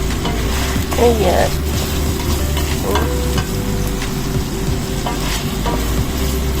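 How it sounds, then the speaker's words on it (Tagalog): Pinapaitan sizzles in its own rendered fat while a spoon stirs it, giving a loud, close, continuous frying hiss with scraping strokes. A voice speaks a brief word over the cooking. "ikiwar-kiwar lang ang aking pinapaitan para mag-laok-laok, para mag-mix-mix-mix siya"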